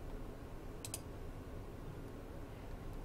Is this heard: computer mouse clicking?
yes